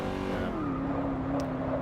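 A 1970s muscle car in the racing game Over-Drive: Apex 6 holds a steady, loud engine drone through a long continuous turn, with the pitch easing slightly downward and a faint tire hiss beneath.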